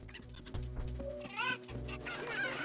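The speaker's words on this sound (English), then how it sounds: "I'm gonna play with these chickens." Chickens in a video game clucking repeatedly over a steady bed of game music, with several short rising squawks and calls standing out near the middle and end.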